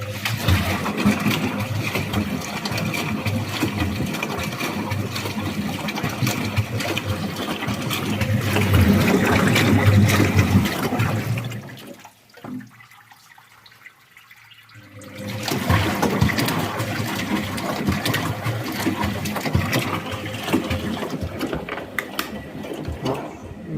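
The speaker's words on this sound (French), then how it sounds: "vous aurez en fait le lavage entre guillemets normal à brassage vite. Enfin un brassage de 50 tours." A Thomson washing machine drum churns through a 50 rpm wash on a 90-degree cycle, a loud continuous sloshing and rumbling that stops for a few seconds partway through and then starts up again.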